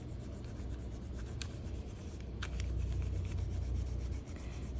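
Crayon or marker coloring a drawing of grass and trees, heard up close as a steady scratchy rubbing with quick strokes and a few sharper scrapes, no talking.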